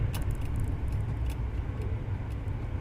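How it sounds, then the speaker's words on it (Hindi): Steady road traffic on a single-lane road near Bajpur, a low continuous rumble of passing cars and vehicles at moderate distance, with no talk. "ट्रैफिक का रश है"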